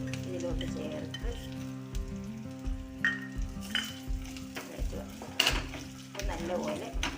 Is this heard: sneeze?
no